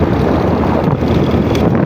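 A rider on a moving Honda Scoopy motorbike sets off loud, continuous wind buffeting against the microphone. The rushing roar masks any distinct engine sound throughout.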